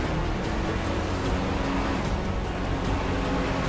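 A Nero supercar in the video game GTA 5 launches and accelerates hard, its engine a steady, loud, dense roar throughout with no pauses.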